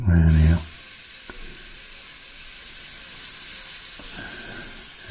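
Airbrush spraying brown paint, a steady close hiss of air that continues throughout after a brief louder noise at the start, with a couple of faint clicks.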